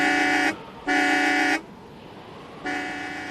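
Car horn sounded as an audiobook sound effect: three loud, bright honks, the first short and the next two longer, separated by brief gaps of quiet background.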